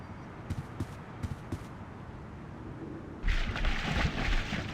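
A door in The Longest Journey being battered down, a few soft knocks first, then a sudden loud crashing burst of splintering impact that rumbles on to the end.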